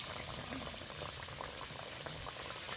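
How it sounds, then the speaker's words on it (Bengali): Chira snacks deep-frying in oil in a wok, a steady dense sizzle and bubbling that runs unbroken and fairly close throughout, with no talk over it. "এইবার টিফিনগুলো তেলে এক এক করে প্রথমে যা ধরবে তেলে খুব সুন্দর করে ভেজে নিব"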